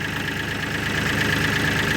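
Kioti CK3510 compact tractor engine idling steadily nearby, a continuous low rumble with a faint rhythmic knock and a high whine, no voices over it.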